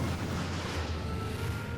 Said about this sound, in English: They're shooting us out of a railgun.